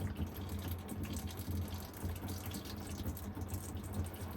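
Transmission fluid draining steadily from a 2018 Ford F250 Super Duty diesel, a continuous close, moderately loud trickling and splashing of liquid that runs unbroken throughout.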